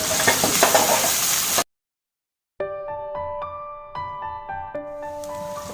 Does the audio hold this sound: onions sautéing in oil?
yes